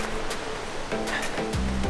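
Rough surf off Kona, Hawaii, sounds as a steady, broad wash of churning waves, loud and continuous over a couple of seconds, with a faint engine drone underneath.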